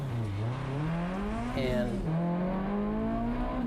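A race car at Road America pulls away from the starting line under green flag, its engine tone climbing steadily and loudly as it accelerates, with a voice talking over it.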